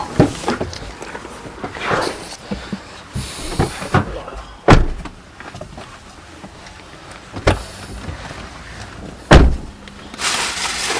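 Doors swing shut on their own, several separate thuds and slams with sliding, mechanical movement between them, moderately close with footsteps and quiet rustling in the pauses.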